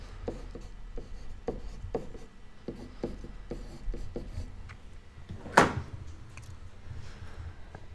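A pen writes notes on paper in short, quiet scratching strokes with small taps between them. A sharper rustle or scrape comes partway through. The sound is close and soft, with no talk.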